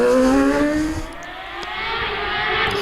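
An Empire Evo hillclimb race car, small and lightweight with a rear-mounted 1100cc bike engine, roars loudly at Loton Park, the note dipping as it brakes hard and then building again.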